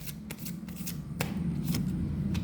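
Tarot cards being shuffled by hand to draw one, a steady close riffling and rustling with a few sharper snaps, over a low background hum.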